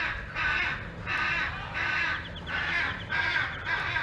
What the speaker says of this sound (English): in case you're wondering who our noisy neighbors are, those are the Hyacinth Macaws